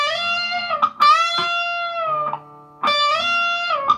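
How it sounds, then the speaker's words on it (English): An electric guitar on the second string at the 15th fret bends a note a step and a half, so the pitch slides up and back down. Each sustained, distorted note rings out loud and close, with short gaps between them. "That's a bend and a half."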